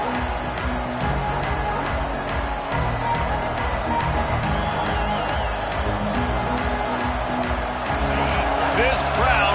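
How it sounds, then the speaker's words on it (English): Loud, sustained roar of a packed stadium crowd at a college football game featuring the Buckeyes, greeting the visiting team at kickoff, with a play-by-play voice talking over the dense, unbroken wall of cheering. "This crowd bringing an ear-splitting welcome to their visitors"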